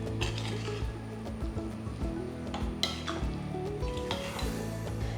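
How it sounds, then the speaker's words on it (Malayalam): Avial vegetables dressed with coconut oil are mixed in a pan, soft stirring scrapes and occasional utensil clinks over a low sizzle, close and quiet. "ഇതെല്ലാം കൂടെ നന്നായിട്ട് മിക്സ് ചെയ്തിട്ട് ഒരു സെർവിങ് ബോളിലേക്ക് മാറ്റാം"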